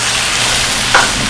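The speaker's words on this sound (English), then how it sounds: "And I'm going to saute that up just like that." Ingredients sauté in a hot pan with fresh white pepper, giving a loud continuous sizzle up close with one brief bright crackle partway through.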